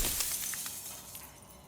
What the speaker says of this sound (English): Every time I ask him a question, a piece of the mirror shatters and completely disappears.